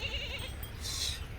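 Goat bleating in short wavering calls, fairly close and moderately loud, from a milk-breed goat kept with its young kids, a steady low rumble underneath.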